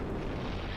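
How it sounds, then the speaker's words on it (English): A Fire Demon boss in Dark Souls 3 lets out a dense, roaring explosion. The blast is heavy and low, filling the whole short moment. "I've also experienced moves for this boss which I've never seen before, like his natural explosion you're seeing now"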